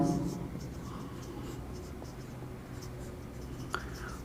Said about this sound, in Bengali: আমি একটা ম্যাথ লিখছি